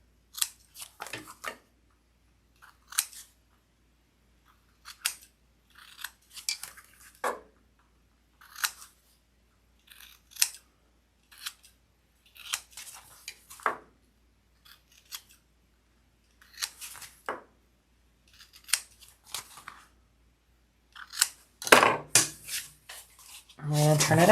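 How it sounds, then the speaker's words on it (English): Scissors trimming the corners of a fabric tote bag, a series of crisp close snips and rustles separated by short silences, with a denser flurry of cuts near the end. "Trim down those corners there."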